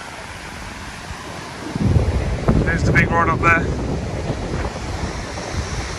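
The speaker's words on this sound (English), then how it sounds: "Sorry about the wind if you get the wind." Strong wind buffets the microphone on a beach by a pier during a night sea-fishing session, a loud rushing roar with surf beneath, as someone speaks briefly partway through.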